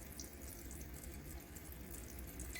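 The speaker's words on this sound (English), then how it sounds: "this right here is a little fountain situation that I turn on at night just to hear water going" A small indoor fountain trickles continuously with running water, a soft, faint, steady splashing wash with no pauses or voices.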